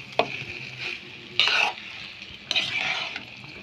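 Chow mein with chicken, egg and masala is stirred in a hot pan: a low sizzle runs throughout while three bursts of scraping, tossing strokes of a spatula against the pan come at intervals, with no talk.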